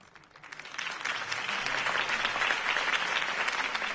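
A video game crowd breaks into loud, sustained applause and cheering that swells quickly and holds steady, dense clapping filling the space.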